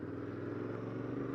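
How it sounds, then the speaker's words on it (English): A Royal Enfield INT 650 parallel-twin motorcycle engine rumbles low and steady while riding at about 60 miles an hour, a smooth, even drone heard from the rider's position. "I can still hear the rumble of the engine under all of it"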